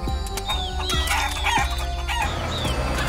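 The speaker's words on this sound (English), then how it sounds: "There's Ben feeding the chickens" Several chickens cluck and squawk close by, with a rooster-like call rising among them, over a low steady background hum.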